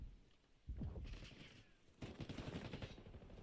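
Automatic gunfire erupts in a competitive shooter tournament match: one short burst, a brief lull, then sustained rapid firing that carries on to the end.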